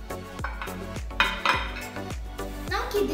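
A steaming vessel is picked up and handled, giving a series of close, ringing metallic clinks and knocks at an uneven pace, some of them sharp, with faint kitchen noise around them.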